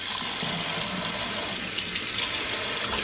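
Steady gushing tap water splashing into a sink while hand-dyed yarn is rinsed, a continuous close hiss and splatter with no talking.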